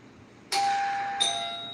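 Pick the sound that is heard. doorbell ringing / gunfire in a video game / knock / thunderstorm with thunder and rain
doorbell ringing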